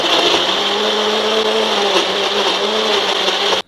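A blender purees three ripe tomatoes for a chutney, giving a loud, steady, close-up whir that runs continuously and cuts off abruptly just before the end.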